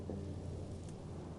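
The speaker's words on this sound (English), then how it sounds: "The storm." Thunderstorm in the video game Life is Strange Double Exposure, a steady low rumble with rain hiss and wind, continuous and fairly quiet.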